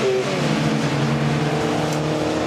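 Porsche 924 race cars at Snetterton circuit in a BRSCC race sweep past on track, a steady mid-distance engine drone with shifting pitch, a brief rising whine near the end.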